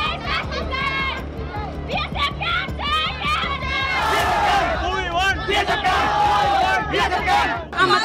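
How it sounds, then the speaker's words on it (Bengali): Locals protesting after violence in Murshidabad raise an angry crowd chant for justice, many voices shouting together in loud, continuous waves with overlapping cries throughout. "উঠল উই ওয়ান্ট জাস্টিস স্লোগান"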